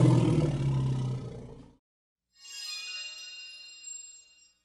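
A booming, growly Tyrannosaurus rex roar sound effect from a children's dinosaur story rumbles loud and close for under two seconds, then cuts off; after a short silence a bright, ringing chime follows.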